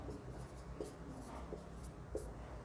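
Pen or marker writing on a board or paper during a chemistry lesson, faint scratchy strokes in short bursts with a few sharper taps, quiet and close.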